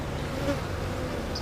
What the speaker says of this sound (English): Decent amount of bee activity on the entrance for a 5 frame, I suppose